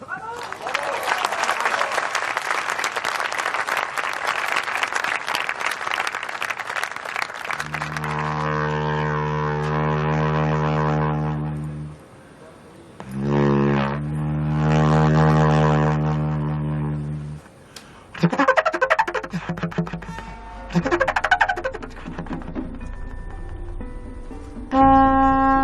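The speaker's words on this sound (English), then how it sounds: "a Celtic war trumpet" A carnix, the Celtic bronze war trumpet, blown by John Kenny: a first stretch of noisy rumble, then long, loud, sustained blasts with bright buzzy overtones, several held notes separated by short pauses.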